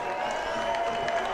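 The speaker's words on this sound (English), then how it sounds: "Fans from Fredonia and Lackawanna cheering on their teams" Football fans of Fredonia and Lackawanna cheer in the stands at a Section VI Class C championship game in Orchard Park, a steady, moderately distant crowd roar with faint clapping.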